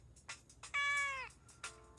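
A cartoonish cat meows in the video game Joker no Kuni: a clear, tonal, slightly falling mew between brief soft chirps, with a shorter mew near the end.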